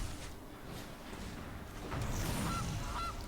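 A faint goose honks twice as an effect when the Golden Goose card is played in MTG Arena. The honks are short and soft over a quiet game soundscape.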